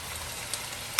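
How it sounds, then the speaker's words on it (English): Tomatoes frying in a pan while Kenyan sukuma is being made, a steady low sizzle with a brief stir noise midway and a sharper clatter at the end. "And just mix it so it all cooks and fries together"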